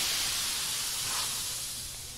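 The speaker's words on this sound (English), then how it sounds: "A white blast of steam bursts forth, engulfing the soldiers and filling up the hallway." Steam blasts from a smashed wall pipe in the game Code: Realize, a loud, close, continuous hiss that fades slightly toward the end, with no voices.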